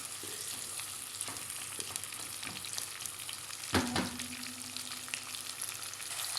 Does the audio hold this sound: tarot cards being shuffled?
no